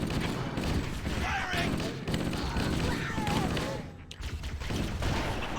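Gunfire from the classic Halo: Combat Evolved, with dense, chunky bursts of shots layered over game effects and a thick background mix, running steadily for several seconds with a brief dip near the end.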